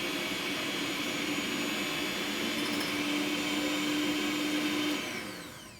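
An electric mixer beats egg yolks with white sugar in a continuous loud, high whirring drone that holds steady, then winds down at the end.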